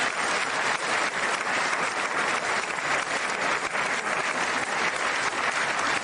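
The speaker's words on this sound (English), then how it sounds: "wasn't sure if anybody even on this side was going to applaud for that" Members of Congress applaud at a State of the Union address, a dense, sustained wash of clapping filling the room, steady and loud from start to finish with no voices over it.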